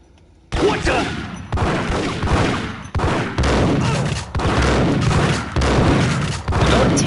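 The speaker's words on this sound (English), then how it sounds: "Don't take a shotgun bullet and just keep shooting." Gunfire in the video game Max Payne: loud, rapid shots repeating in a near-continuous volley for several seconds, with heavy booming reports and a few brief pauses between bursts.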